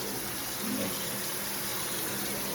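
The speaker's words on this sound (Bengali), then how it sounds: "সব মাজা ধোয়া করছি" Tap water gushes steadily and close over a sink piled with dirty dishes and a kadai being scrubbed clean, a continuous splashing rush with no pauses.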